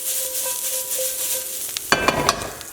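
Steak and Brussels sprout stir-fry tossed in a hot pan: steady sizzling, then a sudden scraping clatter of food and pan with a few short knocks, close and moderately loud.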